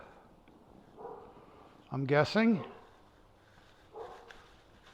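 A pet security dog barks a few times nearby, with short faint yelps around them and a person speaking briefly.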